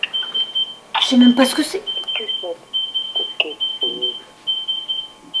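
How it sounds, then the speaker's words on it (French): A bedside alarm clock rings in a home, sounding a steady, high-pitched repeating beep throughout while people talk and react over it up close. "ça fait plusieurs mois qu'on a ce réveil. C'est la première fois qu'il sonne."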